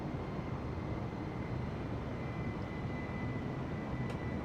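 An airplane engine in Microsoft Flight Simulator 2020 strains during a night flight, producing a steady, dense roaring drone that stays constant and moderately loud throughout with no talking.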